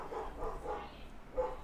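A pet dog gives a short run of soft, close barks and yips, spaced in a loose rhythm.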